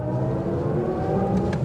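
A 2023 BMW iX xDrive50i electric car drives with a steady synthetic hum and tonal whine, smooth and continuous with slight pitch shifts.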